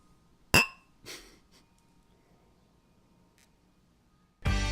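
Beer glasses clink together in a toast after a craft beer tasting of Stone Brewing Enjoy By, a sharp bright clink followed by a softer second touch, then quiet until a loud noise at the end.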